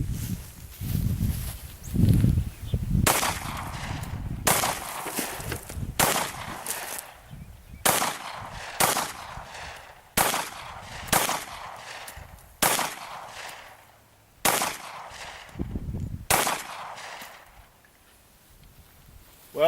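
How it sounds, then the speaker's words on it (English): Glock 30 pistol fired at 10 yards at jugs and cards, roughly nine sharp loud shots spaced a second or two apart, with shuffling and faint movement noise in between. "Glock 30 at 10 yards."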